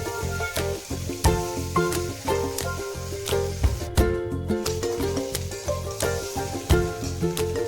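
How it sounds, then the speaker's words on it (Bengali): Potatoes frying in a pan to brown them, a close hissing sizzle with repeated sharp crackles and spatters in an irregular rhythm. "এবার একটু লাল লাল করে ভেজে নেবো পিঠগুলো"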